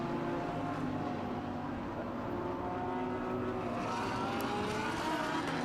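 A GT race car, number 37, drones steadily through the hairpin at Suzuka with a sustained engine tone, while the noise of other cars blends in the background throughout.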